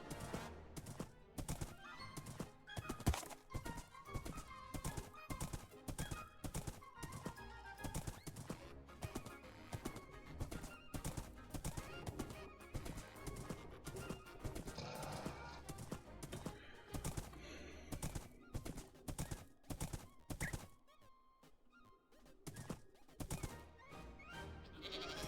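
Donkey in Minecraft braying and clopping its hooves amid a dense, busy mix of game sounds and music, the animal calls recurring throughout rather than standing clearly alone.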